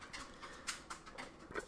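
A dog named Dozer walks around indoors, his claws clicking on the floor in a light, irregular patter of faint taps, somewhat distant and alone.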